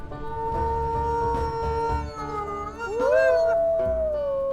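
Wolves in WolfQuest howl in long, sustained, overlapping tones that rise and bend in pitch, loud and close, with no talking.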